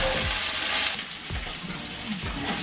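Chicken skin fries in hot oil in a pan for honey mustard chicken, a loud, continuous close-up sizzle with a few soft thumps as the pieces are shifted.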